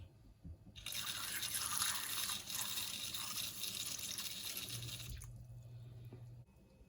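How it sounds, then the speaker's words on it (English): Water drains from freshly washed squid mantles in a colander, a close, steady trickling and splashing that runs for several seconds, then cuts off with a few faint drips. "We'll just set this aside in the colander for the water to completely drain away"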